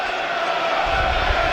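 Football crowd at a Tottenham v Nottingham Forest Premier League match, a dense, continuous roar of many voices filling the stadium, steady and loud throughout.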